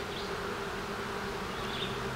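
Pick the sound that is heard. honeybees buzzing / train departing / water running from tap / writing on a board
honeybees buzzing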